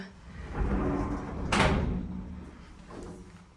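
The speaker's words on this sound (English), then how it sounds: "Like the sliding door, very heavy duty doors too" A heavy-duty sliding door in a Big Bear Lake property rolls along its track with a low rumble, then bumps shut with a brief sharp knock. A quieter second movement follows.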